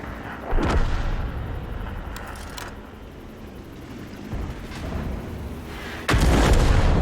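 Self-propelled artillery gun in a tier 10 tank video game, with a heavy booming shot near the start and a second louder blast at the end, each followed by rumbling low decay; no talk.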